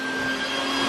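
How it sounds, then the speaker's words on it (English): Vacuum cleaner running close by with a steady, loud motor whine and constant airflow roar, no voices over it. "We got Prada over here vacuuming, doing this thing."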